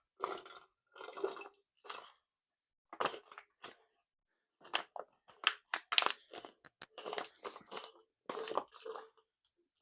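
Bursts of pressurized CO2 hiss from a fermenter being purged while brewing a blueberry milkshake IPA, a series of short close gas releases separated by silence, some quick and clustered.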